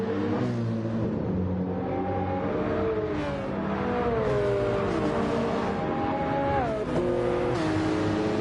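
BMW and other racing cars in a sim racing league race at Interlagos, engines revving hard and shifting as they accelerate past, a continuous loud multi-car engine drone with rising pitch sweeps throughout.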